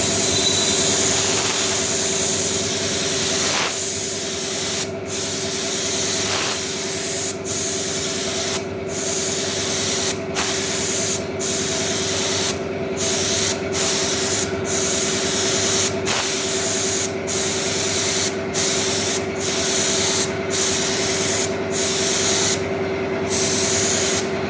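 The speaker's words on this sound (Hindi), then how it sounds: "और अभी हम इस पर स्प्रे करेंगे।" Lacquer-based paint hisses steadily from a spray gun onto a cleaned, degreased surface, a long continuous spray with brief regular breaks between passes and a low machine hum underneath.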